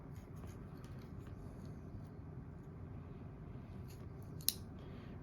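Scissors snip at a fluffy tinder puff for a ferro rod, producing a series of light, crisp cuts over a low steady background rumble, with one sharper snip near the end.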